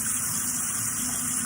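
Cold tap water gushes steadily into a kitchen sink around a pressure cooker pot, a close, continuous rushing splash with no break.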